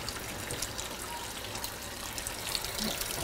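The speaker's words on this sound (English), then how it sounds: "And I actually do wash my hands too" Tap water runs steadily into a sink while hands are washed during raw dog food preparation, a continuous hissing splash with faint clinks, no speech.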